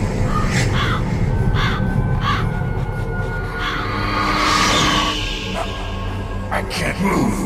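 Ravens cawing in a Metal Gear Solid game scene, harsh repeated calls heard in short bursts over a droning ambient backdrop, with speech woven in among the caws.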